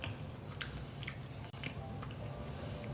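Biting into and chewing a freshly cooked tortellini, soft squishy mouth sounds and a few moist clicks, close-up and quiet with no talk.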